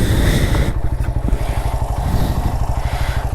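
A Suzuki GS motorcycle engine idling up close, loud steady low-pitched rhythmic thumping with a brief throttle blip at the start, no talk.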